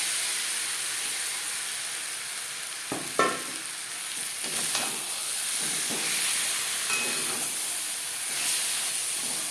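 Marinated chicken and onions sizzle and hiss in a hot pan for chicken biryani on high flame, with a continuous frying noise broken by a few scraping stirs of a spoon.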